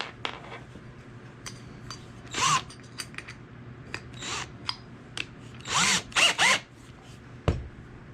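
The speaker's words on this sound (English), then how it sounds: "We use a spade bit because it drills a flatter hole in the bottom." A power drill driving a spade bit into wood, a 3-inch bit sized for dowel holes in a homemade spice rack, whirs in several short bursts between quiet pauses, close and moderately loud.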